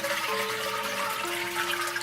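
A household toilet with a new-style flush lever being flushed, a continuous rushing water wash with a faint tonal whine from the tank refilling, close and steady.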